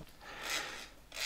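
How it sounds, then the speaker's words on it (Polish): The rotor of a 1969 Warsaw-built electric grinder spins loosely by hand, giving a faint, soft whirring rasp that swells and fades in two or three slow sweeps. "Wirnik bardzo luźno się obraca"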